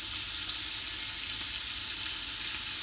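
Steady loud sizzle of vegetables frying in a pan as tomato is slowly poured in, a continuous hiss with no talking.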